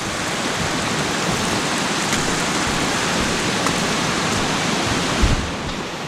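A small Pennsylvania mountain stream flowing, a steady, loud broadband rush of water close by that holds constant with no pauses.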